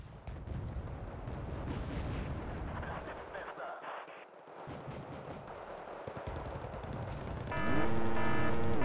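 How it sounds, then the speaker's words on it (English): Heavy booming blasts and rumbling gunfire fill a video game battle, loud and dense at first, briefly falling quiet before more explosions roll in, with a voice talking over parts of it. "That's a bomb."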